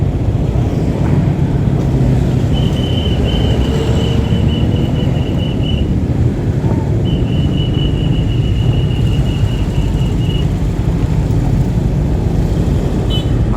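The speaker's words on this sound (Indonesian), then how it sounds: "ini daerah Banjarsari, daerah Banjarsari macet dulur." Road traffic crawls through a jam in Banjarsari: a constant loud rumble of engines close by, with long electronic beeping tones sounding twice over the drone.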